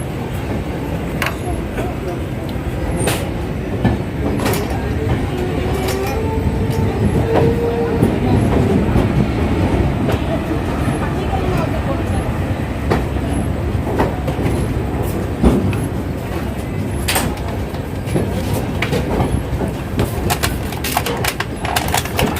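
A 15930 Tambaram Express train runs just after pulling out of Tatanagar station: a steady loud rumble of wheels and carriage, with periodic sharp clacks from the track throughout, heard from inside the train.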